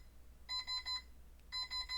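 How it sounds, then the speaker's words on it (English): A bedroom alarm clock beeps in two quick bursts of four electronic tones each, separated by a short pause, faint and slightly distant in a quiet room. "My clock alarm in my room went off."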